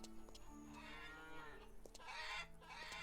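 Cows on a farm in the video game Lumberjack Dynasty, moo after moo in long, drawn-out overlapping calls, close and clear, with fainter farm noises underneath.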